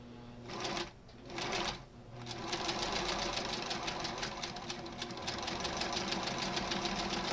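A sewing machine stitches a seam in quilt fabric for a maple leaf block, starting with two short bursts before settling into a loud, rapid, continuous run of needle strokes.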